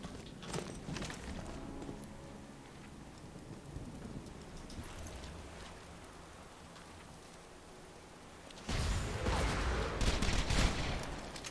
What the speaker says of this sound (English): Not really enjoying this flame machine gun, actually.